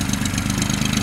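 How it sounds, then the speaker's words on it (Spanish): A tractor engine rumbles loud and close, a dense steady low drone with a fast throbbing pulse and no variation in pitch through the short stretch. "Vamos a esperar un poquito que pase el tractor."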